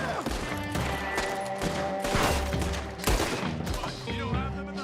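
Gunfire from a battle in the Western game Red Dead Redemption 2 crackles in loud, rapid bursts of shots and thuds over a steady background of music and ambient noise.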